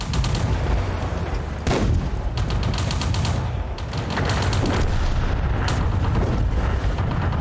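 Heavy gunfire and booming cannon shots in a tank battle video game, loud and continuous, with repeated sharp blasts over a dense rumbling bed of battle noise.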